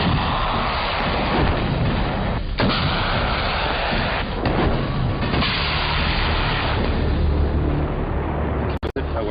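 Heavy 84 mm weapons fire in rapid succession during special forces training, the booming blasts and rolling reports loud and close, one after another across a dense, continuous roar.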